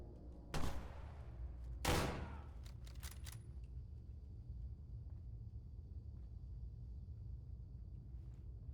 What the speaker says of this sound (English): Was that shooting into like the wall or something?